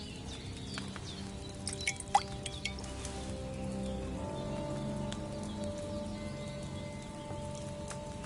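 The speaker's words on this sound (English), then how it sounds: "Get a phial and pour it in." Brewed potion poured into a phial in Kingdom Come: Deliverance 2, heard as faint liquid drips and small trickling sounds over a soft game ambience with a low tonal hum, with no talking.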